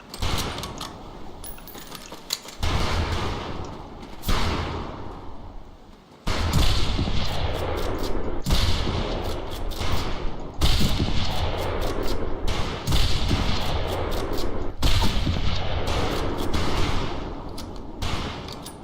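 Repeated gunfire at targets in Medal of Honor: Pacific Assault, a WWII shooter set in boot camp: sharp, loud shots in uneven bursts separated by short pauses, with mechanical clicks of reloading between volleys.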